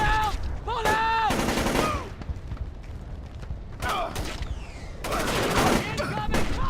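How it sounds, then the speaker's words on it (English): Automatic gunfire in the stealth video game Splinter Cell: Chaos Theory, loud repeated bursts in several volleys with mechanical clatter, while voices shout and music-like tones ring through. "Incoming fire!"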